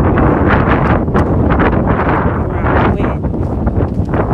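Strong wind blows outdoors on a walk, buffeting the microphone with loud, continuous rumbling gusts that rise and fall.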